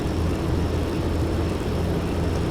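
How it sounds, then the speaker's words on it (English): A formation of Luftwaffe bombers in a Flight Simulator combat game drones steadily as they approach an airfield at Calais, a dense low engine hum holding at even loudness throughout with no voices. "line of bombers approaching the Calais airfield"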